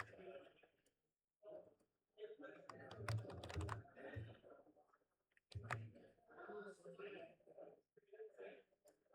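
Fingers tap quickly on a computer keyboard in soft, irregular bursts of clicks, heard faintly beneath quiet, whispery talk.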